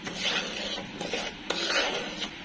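Spoon stirring rice in a pan while sautéing it to lightly brown, a continuous close scraping and rasping with a few louder knocks, no voices.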